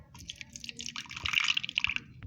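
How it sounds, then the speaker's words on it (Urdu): Vitamin C water poured into a small container for a homemade whitening serum, a quick trickling, dripping splash that swells briefly and ends after about two seconds. "ہم وائٹننگ سیرم بنانے کے لیے سب سے پہلے وٹامن سی کا پانی ڈالیں گے۔"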